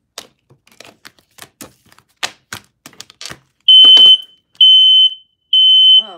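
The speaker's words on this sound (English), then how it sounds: "I got my fire alarm." A home fire alarm blares in three loud, piercing electronic beeps of about a second each, preceded by a run of sharp knocks and clatter nearby, with no speech.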